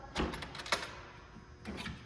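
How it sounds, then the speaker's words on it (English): A Star Wars pinball machine's lockdown guard is unlatched with a couple of short metallic clicks and clunks, close and fairly quiet, separated by a brief pause. "reach in and unlatch the lockdown guard"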